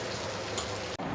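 Pangas fish and mashed potato cakes with spices fry in hot oil, giving a close, continuous sizzle with a brief faint clink midway and a short dip before the sizzle resumes.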